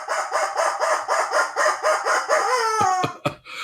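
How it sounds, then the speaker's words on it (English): A rubber chicken squeaks in a rhythmic series of about a dozen honking squawks, loud and close, ending in a stretched wheeze and a couple of sharp final squeezes. "And the rubber chicken says"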